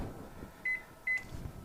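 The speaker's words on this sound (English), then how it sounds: "I'm going to pop it in the microwave." A microwave oven starting up, with two short, clear electronic beeps over a low, steady background hum.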